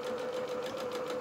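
A domestic sewing machine runs steadily, stitching lace at a very small stitch length of about 1. Its fast, even whir and rapid ticking are faint but continuous, with no voice over them.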